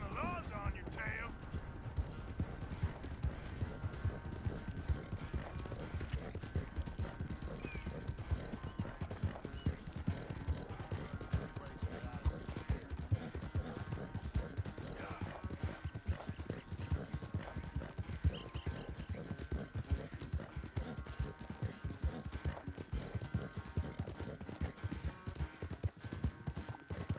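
Horse hooves clip-clop in a steady trotting rhythm during riding in Red Dead Redemption 2, moderately close and continuous, with speech heard over them at times.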